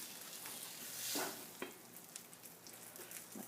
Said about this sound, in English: my meat and my cheese and all that wonderful stuff back on there in that skillet